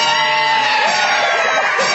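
A studio audience of children and adults screams loudly all at once on a Christmas special, a dense, sustained roar of shrieks and shouts filling the whole moment without pause.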